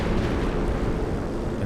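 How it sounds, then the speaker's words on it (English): A heavy artillery strike lands in a strategy video game with a British commander, producing a sustained rolling roar of explosions that rumbles steadily at high volume, uninterrupted by voices. "And that's the artillery strike."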